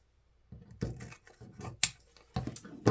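Scissors cut through ribbon at close range, with several crisp snips and rustling blade strokes in uneven rhythm over a quiet background.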